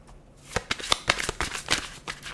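A Dragon Wisdom tarot deck being shuffled by hand: quick, close riffling bursts of card flicks in an irregular rhythm, crisp and fairly quiet, with no talking.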